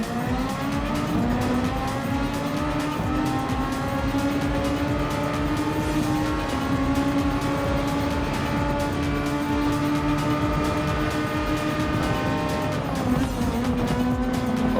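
Super Formula SF23 race cars in a video game roar continuously into the Suzuka hairpin, engine notes rising and falling as they brake and downshift, with tires squealing through the corner.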